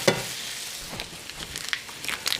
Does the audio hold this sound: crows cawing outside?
no